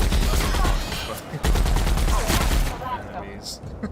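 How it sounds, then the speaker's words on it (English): Rapid automatic gunfire in a video game, loud and close, a dense stream of overlapping shots that briefly pauses and then resumes before tapering off near the end. "My gun just tears through them immediately."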